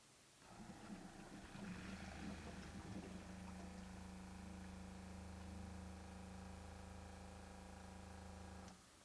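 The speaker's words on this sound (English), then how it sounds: "it's a good strong running pump" An electric water pump hums steadily, drawing water from a bucket through a fused hookup, loud and continuous for about eight seconds before cutting off abruptly, with no talk over it.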